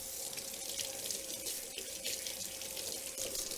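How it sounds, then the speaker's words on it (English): Water runs steadily from a tap into a sink while hands are washed, a continuous close splashing hiss with no pauses and no talk. "Once again, gotta wash the fucking hands"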